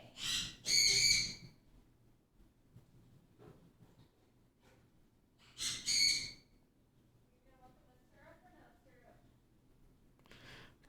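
A bird calls loudly twice in a room where someone is day trading Bitcoin and Treasuries futures, each outburst a short shrill burst of hoots or squawks. Quieter chirps and faint room noise fill the gaps.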